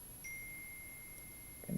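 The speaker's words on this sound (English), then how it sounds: "my phone's pinging in the background" A phone notification pinging faintly in the background of a quiet room, a thin sustained electronic tone near the start with a second brief ping later, over low room noise.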